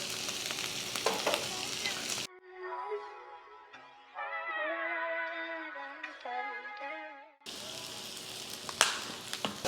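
Crab meat sizzles as it fries in sesame oil and garlic shallot butter, a loud crackling hiss at the start and end, broken in the middle by several seconds of music.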